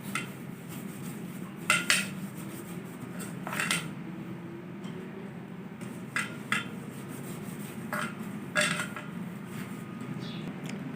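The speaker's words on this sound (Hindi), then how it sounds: "सबसे पहले हम पैन को ग्रीस करेंगे अच्छी तरह" A cake pan for an eggless chocolate cake is greased by hand, with scattered metallic clinks and scrapes of the pan over a steady low hum of a fan, close and fairly quiet, without any talking.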